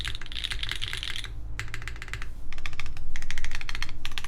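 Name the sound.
typing on Mode Loop TKL mechanical keyboard with Obscura switches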